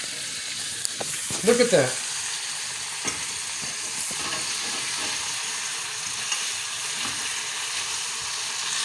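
Food frying in butter in a pan is flipped over, a steady close sizzle throughout with a brief burst of scraping and spattering early on, while a voice speaks briefly.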